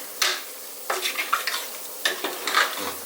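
Mutton biryani gravy with salt is being stirred in a pot for a purple yam biryani, giving a few scraping, sloshing strokes with a light sizzle beneath, fairly close and with no talking.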